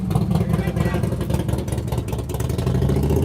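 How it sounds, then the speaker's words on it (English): Motorcycle engines at the close of the Sturgis Rally at the Buffalo Chip rumble loudly and continuously nearby, with uneven revving surges as riders pull out. "So some motorcycle sounds for you."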